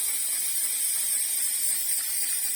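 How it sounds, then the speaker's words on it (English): A spray paint can held about 30 centimeters away hisses steadily onto paper piled in a tub, one continuous close airy spray with no talk. "we are literally filling up a tub with paper and just spray painting it"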